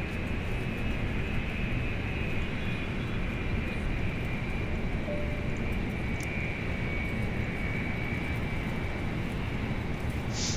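An airliner taxiing along the runway toward the threshold in Microsoft Flight Simulator, a steady loud jet engine roar with a high whine, unbroken throughout and with no one talking.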